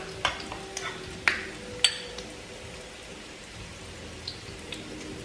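Crab cakes browning in a pan give a soft, faint sizzle under several sharp clicks and clatters of utensils against the pan, close by, with no speech.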